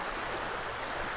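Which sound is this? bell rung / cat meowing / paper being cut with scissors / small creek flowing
small creek flowing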